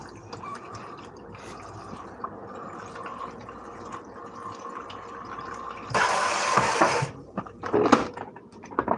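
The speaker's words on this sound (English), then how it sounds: "I'm going to add a little bit more water to this" Water splashes and pours into a container in a kitchen, a louder gushing burst after a stretch of quieter trickling and dripping, with some background hum.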